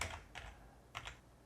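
A few soft key taps on a computer keyboard while a website address is entered, quiet and close, spaced irregularly over a low background hiss.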